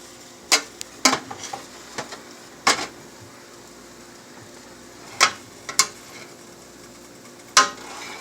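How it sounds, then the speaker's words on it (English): Utensil scraping and clinking against a pan while stirring chicken fried rice with eggs, in sharp isolated strokes spread irregularly across the span, some in quick pairs, over a soft background hiss. "And I'm going to stir carefully. I'm really just folding in"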